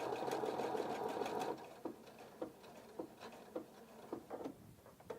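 Pfaff Quilt Expression 4.2 sewing machine stitching a decorative stitch pattern, a fast even whirring rattle that stops, then slower irregular clicks and taps as the pattern finishes, close and moderately quiet.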